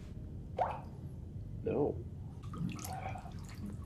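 A few slow, separate drips of water falling into a pool in the TV show The Leftovers, faint and spaced about a second apart, with people talking quietly over them.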